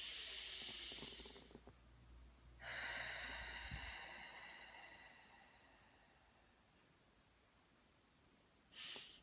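A deep breath during a calm tapping session: a long breathy inhale, a pause, then a slow hissing exhale that fades out, close to the microphone and followed by near silence.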